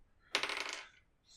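Dice rolled during a Dungeons and Dragons game, a short sharp clatter tumbling across a hard surface for about half a second, then settling into quiet.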